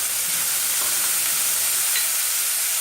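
Celery sautés in a hot pan, a steady broadband sizzle and hiss that stays loud and even throughout, with no talking.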